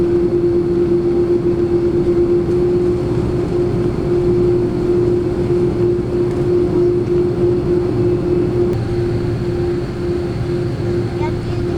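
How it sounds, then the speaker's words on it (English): Steady, loud cabin drone inside a Qantas Airbus A330 airliner, a constant low rumble with a steady hum running through it, unchanging for the whole stretch. "Today, you're flying on a Qantas Airbus A330."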